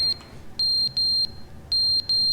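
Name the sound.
fire alarm in video game The Stanley Parable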